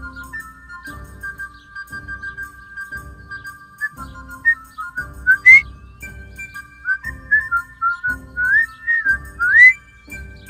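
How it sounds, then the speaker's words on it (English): Person whistling a melody along to background music in the video game Kingdom Come: Deliverance, with clear, close, sliding whistled notes over a steady rhythmic accompaniment. "Every single time this song comes on, I have to whistle to it."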